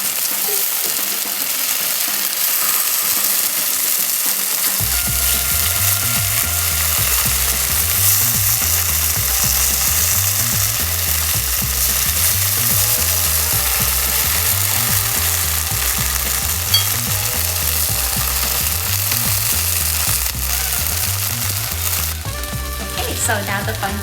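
Turnip and taro cakes fry in a hot pan with a loud, constant sizzle and crackle of oil, marked by a steady low rhythmic thumping, going on without talk.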